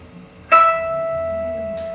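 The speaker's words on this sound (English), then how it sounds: "the sound of a harmonic" A guitar harmonic played by lightly touching the string above the 12th fret rings out as a single bright, bell-like chime, sustaining steadily after a sharp onset with a faint second touch near the end.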